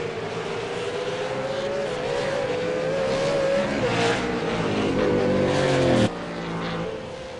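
V8 Supercars race at Oulton Park, one engine screaming steadily at high revs with pitch wavering as it shifts and accelerates, others layered behind, then a sudden drop in level near the end as a car passes away.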